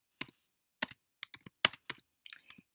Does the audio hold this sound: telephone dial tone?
no